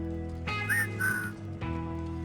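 Short whistled notes into a microphone in the game Wasteland 3, a couple of bright rising and falling tones over a steady droning electronic hum.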